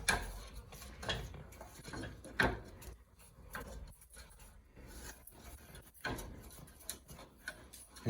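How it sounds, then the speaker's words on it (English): Rice crispy treat ingredients, including honey and peanut butter, being stirred together in a bowl, giving quiet, irregular scrapes and light knocks of a utensil against the dish, with no voices. "she's gonna mix all that together"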